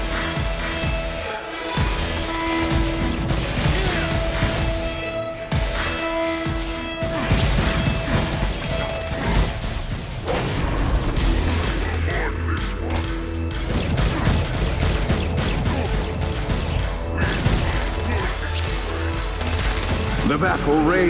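Gunfire in a Saints Row battle: dense bursts of shots, crashes and booms layered over continuous game noise and music for the whole stretch, loud and busy.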